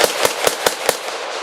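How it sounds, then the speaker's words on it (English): M1 Garand rifle firing in rapid semi-automatic succession at an outdoor battle reenactment, five sharp loud cracks in quick, fairly even rhythm with short echoing decay. "And next will be the M1 Garand with its 8-shot N-block clip with a distinctive twang at the end."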